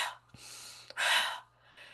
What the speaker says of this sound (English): That breath is only going into the chest and then you're breathing it out.